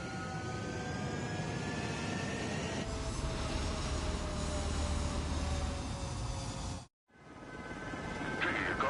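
Fighter jet in Ace Combat 7 spooling up and roaring for takeoff, a loud steady engine rumble that swells and holds, briefly cuts out, then returns and builds again.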